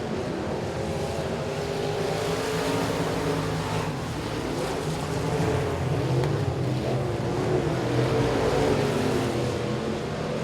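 Race cars circle the oval at Boothill Speedway in the closing laps of the Billy Melton Memorial, a pack of engines droning and revving at moderate distance, swelling louder as they come down the back straightaway.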